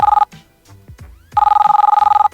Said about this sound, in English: those Merlin ringtones that I use on my cell phone